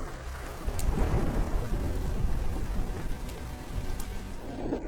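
A thunderstorm rumbles low and steady while rain hisses over the ground in the wild, with a couple of brief sharp crackles breaking through.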